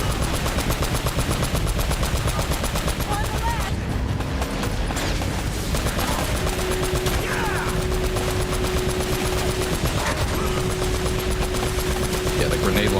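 Grenade launcher and gunfire in the action video game Uncharted: Drake's Fortune, a dense continuous barrage of loud shots and blasts with a faint voice underneath.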